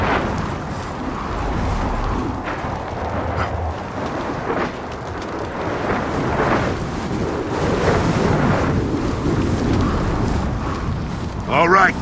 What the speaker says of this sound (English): We got a wind flare coming in.